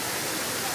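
Steady broadband rush of water tumbling down the Pancuran Tujuh waterfall at Baturraden, a continuous close, even roar with no breaks over its short span.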